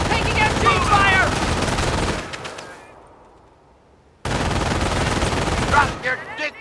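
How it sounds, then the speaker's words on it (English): Bursts of machine gun fire in the World War II strategy game Company of Heroes, loud and dense for about two seconds, a quieter gap, then another heavy stretch of gunfire. "Taking MG fire!"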